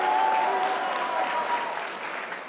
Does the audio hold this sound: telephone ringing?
no